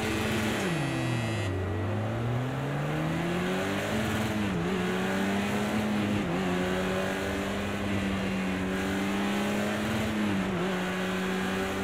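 A race car engine in the Project Cars 2 VR racing game at Long Beach, droning steadily up close, with the pitch sweeping down and then rising through gear shifts and revs.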